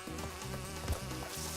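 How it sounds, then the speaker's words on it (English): Buzzing bees in the video game Crash Bandicoot 2, a steady insect drone with harmonic game music or tones, nearly continuous across the short stretch with a couple of brief low thumps. "At least you can spin the bees away."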